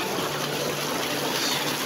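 Fresh water gushes from a village tubewell in a steady, loud, broadband rush, heard alone and close without pause.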